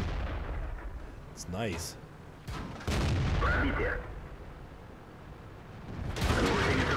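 A tank cannon in World of Tanks fires several heavy booming shots with sharp impacts, spread across a few seconds, while someone briefly comments over the gameplay.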